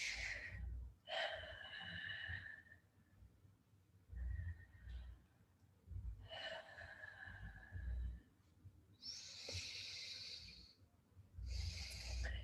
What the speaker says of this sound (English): I invite you again to take 3 strong breaths